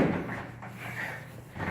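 An original vintage Dover hydraulic elevator in the Commerce Building, Yorktown Heights, New York, gives a steady low mechanical hum with soft rumbling, continuous and close, with no voices.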